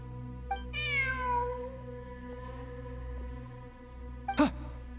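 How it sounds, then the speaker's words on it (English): In the video game Genshin Impact, a cat gives one clear, falling meow near the start, followed by a softer short mew later over a steady low ambient drone. "Look, a cat."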